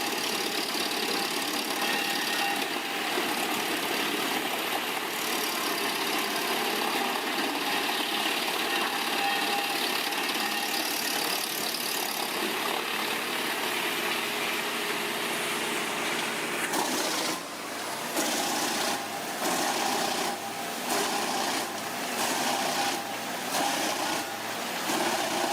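A wood chipper powered by a CAT 780 HP engine runs steadily, chipping tree trunks into wood chips, a loud continuous mechanical roar with a brief dip and rhythmic pulsing near the end.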